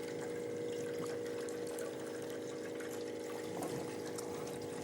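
Water runs steadily through a home activated-carbon water filter, a continuous close trickling and pouring wash with a faint hum underneath, holding even for the whole stretch.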